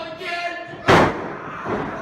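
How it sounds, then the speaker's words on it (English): A wrestling body slam lands on the mat in a training match, one loud, sharp thud near the middle that stands out above a steady background of voices and room noise. "I love body slams."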